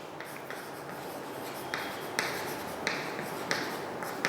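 Chalk or marker strokes on a classroom board as a chemistry teacher writes, a steady scratchy scraping with several sharper taps where strokes begin, faint and continuous with no talk.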